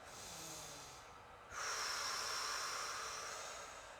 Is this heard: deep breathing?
yes